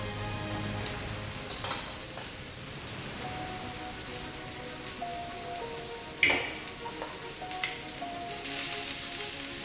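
Steak fat and sliced vegetables sizzling in a hot pan for a Philly cheesesteak, a steady crackling hiss with occasional clinks and a sharper scrape partway through.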